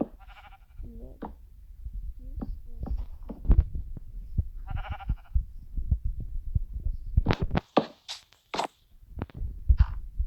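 Sheep bleating in Minecraft, several short nasal bleats spread over the clip, mixed with thuds and game noises and punctuated by louder sharp sounds near the end.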